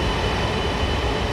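A Chinese CRH2A high-speed bullet train in Train Sim 2015 gives a steady, loud rumble of rolling rail noise with a broad hiss, continuous throughout and with no voices.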